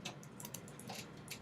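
Fingers tapping away on a computer keyboard in an office, a quiet, quick irregular patter of key clicks with short pauses, close by and faint, with no talking.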